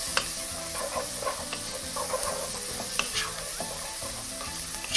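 Onions and other ingredients sizzle in butter in a frying pan for chapati burritos, with continuous close frying hiss and clicking, scraping stirs of a utensil throughout.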